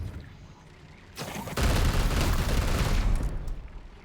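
Gunfire in the video game Warhammer 40,000: Chaos Gate - Daemonhunters: a sharp crack, then a loud, dense burst of shots and booms that rolls on for a couple of seconds before tapering off.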